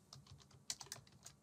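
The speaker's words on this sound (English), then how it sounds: "I'm just typing AC" Quiet tapping on a computer keyboard as a short word is typed into a Jira webhook name field, a brief cluster of light, uneven keystrokes, close and soft, with no talking.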